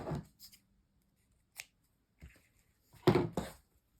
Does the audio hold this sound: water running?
no